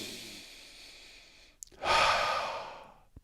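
A single deep breath, drawn in after a pause and released as a long, close, airy exhale that swells loudly and then fades.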